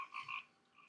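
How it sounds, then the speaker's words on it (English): Recycled cricket-chirp ambience from a 3DO video game: a short, bright pulsing trill sounding in two quick bursts and then trailing off faintly, with no voices over it. "Plus this wonderful recycled sound out here. Freaking crickets murdering themselves"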